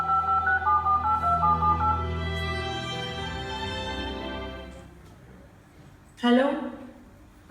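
Telephone keypad tones beep in a quick run of short, distinct presses as a number is dialed, followed by a lower ringing tone and a brief sound of someone picking up, heard close and clean without talk.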